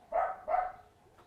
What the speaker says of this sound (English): That's not our dog.